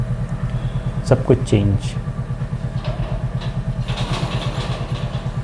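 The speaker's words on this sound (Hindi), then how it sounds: "बाइक वाला था ना बगल में, इसलिए मैं बोल नहीं पाया ज़्यादा" A motorcycle engine idles nearby beside a roadside, a steady low pulsing rumble running throughout while someone speaks briefly over it.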